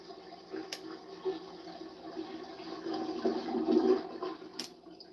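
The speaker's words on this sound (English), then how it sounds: "we got a flush" A toilet flush rushes and swirls steadily, swelling toward the end before easing, with a couple of brief clicks at the start and finish, moderately close.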